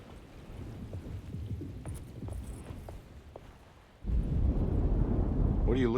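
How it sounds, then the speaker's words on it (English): Thunderstorm in the video game Alone in the Dark: a low rumbling roll of thunder with rain hiss, then a sudden louder surge of rain and rumble near the end, with no talk. "Just keeping an eye out for the storm"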